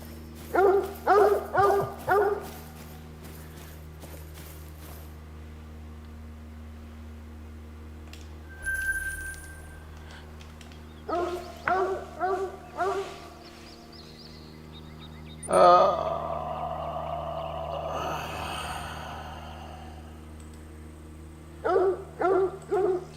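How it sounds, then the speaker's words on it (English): Hunting dog in theHunter: Call of the Wild, on a Mississippi whitetail preserve, barking in several short bursts of three or four yelps, spaced out over a steady ambient hum, moderately close. "That dog is still raising hell."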